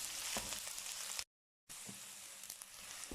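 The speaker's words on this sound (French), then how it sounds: "On fait revenir dans une poêle avec un peu d'huile nos oignons, notre ail." Onions and garlic sizzle and fry in a little oil in a pan for a chicken chilli curry, making a steady close crackle with brief stirring sounds and a short silent gap partway through.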